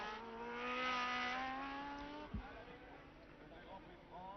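A 1975 Formula 1 car driven by Niki Lauda at the French Grand Prix, its high engine note rising loud and close along the pit straight, then a sharp drop as it passes, with a commentator's voice running over it.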